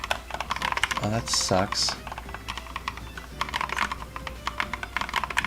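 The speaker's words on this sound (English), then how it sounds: "So I've been typing this whole time and not..." Fingers type on a computer keyboard in quick, uneven bursts of close clicking keystrokes that run throughout, while someone briefly speaks over them.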